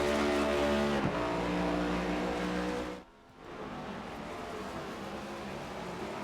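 A race car on the Daytona road course rises to a loud, high engine whine, then drops sharply as it brakes into a corner and climbs back up again, with no talking.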